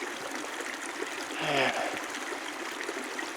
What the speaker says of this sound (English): this water is coming right off that snowfield there